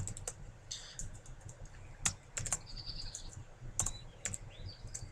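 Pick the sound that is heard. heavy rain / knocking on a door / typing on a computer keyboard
typing on a computer keyboard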